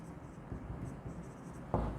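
Pen or pencil scratching on paper while writing the word capital in an accounting ledger, a soft continuous scribble that is close and quiet.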